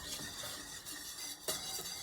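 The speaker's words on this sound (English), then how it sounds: "Continue whisking. And cook it until your desired color is reached." Caramel sauce cooks in a pan while a whisk scrapes and stirs through it, a soft continuous swishing with faint sizzle and a brief metallic tap, quiet and close.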